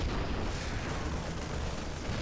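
Siege tanks firing in StarCraft 2, a dense, continuous wash of booming artillery blasts and explosions filling the whole clip at moderate level.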